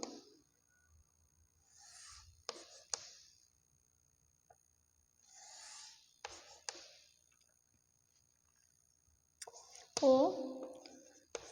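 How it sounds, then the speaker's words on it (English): A pen or pencil drawing geometric figures by hand for a class 6 maths lesson on basic geometrical ideas, giving short, faint scratching strokes in several separate bursts with quiet pauses between them and a few sharper clicks. "Now I will draw figures here."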